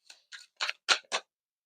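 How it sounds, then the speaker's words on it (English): Tarot cards being shuffled, five short, evenly spaced crisp swishes that grow slightly louder, then silence, with no talking. "I find it enjoyable to shuffle live on the camera for you"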